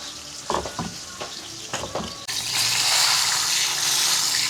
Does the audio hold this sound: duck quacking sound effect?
no